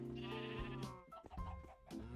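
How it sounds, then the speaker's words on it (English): Minecraft sheep bleating in a video game, a couple of wavering close bleats in quick succession, clear and fairly quiet, with no talk over them. "I forgot that my sheep don't have grass in here"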